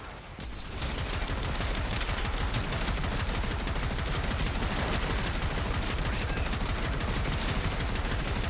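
Sustained rapid automatic gunfire in the video game Warframe, loud and continuous after a brief quieter start, dense overlapping shots with no pause.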